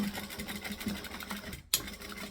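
A sewing machine back stitches a seam in a fast, close, rhythmic whir that cuts out abruptly for a moment before resuming.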